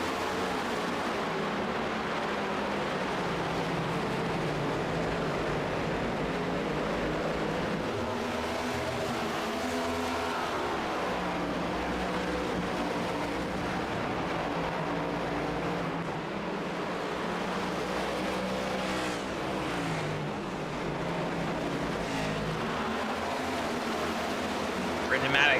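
Stock-car racing video game set at Phoenix, with a pack of cars droning steadily on track, a continuous engine roar at moderate level beneath a race commentator calling the action.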